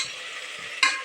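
Onions fry in a hot pan and are stirred, giving a steady close sizzle with a sharper burst of hiss near the end as they are moved around.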